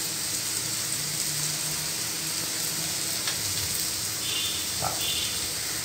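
Spices such as hing, coriander-cumin powder, turmeric and red chilli powder fry in a pan at home, giving a steady close sizzle with faint scraping of stirring running throughout.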